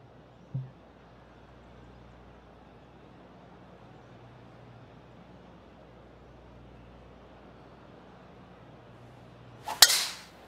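Golf club striking a ball on a fade shot in PGA Tour 2K23, a single sharp crack near the end after a long stretch of quiet ambient hum, preceded by a faint earlier tap.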